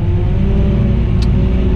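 A Vario tractor engine revving steadily as it pulls away, a loud, close, continuous low rumble and drone with no voices over it.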